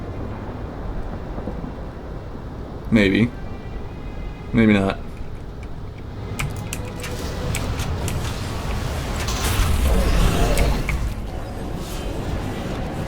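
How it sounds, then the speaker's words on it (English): Lightning strike in World of Warcraft during the Legion invasion of Azeroth: two sharp crackling zaps, then a rolling thunder-like rumble that swells and fades under someone talking. "any second now, we will be hit with some lightning"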